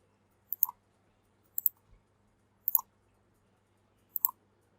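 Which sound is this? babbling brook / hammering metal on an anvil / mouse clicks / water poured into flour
mouse clicks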